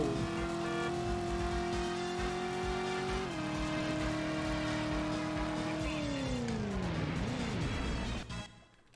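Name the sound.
car driving in video game Driver (PS1)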